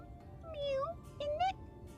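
A human voice imitates a cat, giving two drawn-out, rising meows in a row over a low background hum.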